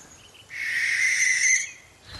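A bird in a British hay meadow gives a single long, shrill, rasping screech that stands clearly alone against quiet surroundings.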